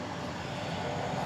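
A passenger airplane roars loudly and continuously at DFW Airport at night, a broad steady engine rumble filling the air with no voices.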